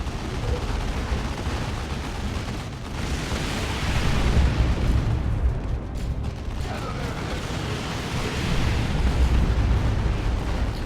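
Missile explosions from a real-time strategy video game, with commander missiles striking infantry: a continuous stream of rumbling blasts and bursts that swells louder twice, along with mechanical clatter.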